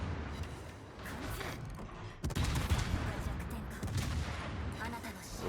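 Warship guns in the video game World of Warships booming in rapid volleys over a rumbling battle din, with a sharp burst near the middle and voices talking faintly underneath.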